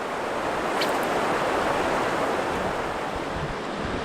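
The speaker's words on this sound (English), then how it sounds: "This little rapid wasn't on our map, but it looks runnable." Water rushes through a small rapid on the Mississagi River in the wilderness, a steady broadband roar with no break, fairly loud and close, and no voices.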